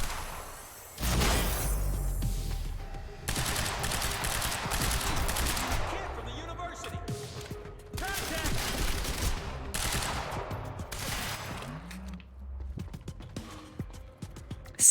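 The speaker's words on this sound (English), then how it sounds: "Semi-auto shotgun." Semi-auto shotgun fire in the video game Quantum Break, several loud bursts of blasts separated by short lulls, with mechanical clatter and whooshing effects between them.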